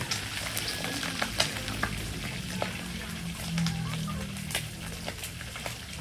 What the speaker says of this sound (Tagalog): Iprito po natin para maging crispy siya